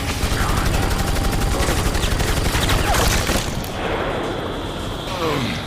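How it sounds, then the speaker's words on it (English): Automatic gunfire in a Resident Evil 4 cutscene: loud, rapid, rhythmic bursts of shots rattle on for several seconds, then ease into scattered, echoing shots. "he started shooting before Leon got into cover"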